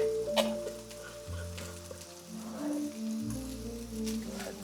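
Steaks searing in a hot pan give a steady, close sizzle that continues throughout, with soft 1940s-style jazz playing in the background.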